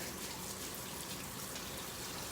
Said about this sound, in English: I'm gonna rinse my tongs and the handle with hot water